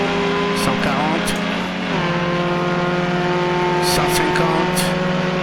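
A simulated 1967 Renault 8 Gordini 1300 in the rFactor 2 racing game revs hard with a steady buzzing engine drone, pitch dropping through a gear change, while someone talks over it.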